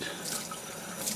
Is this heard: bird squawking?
no